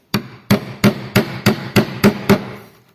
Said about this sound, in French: je mets mon ciseau contre la pièce de bois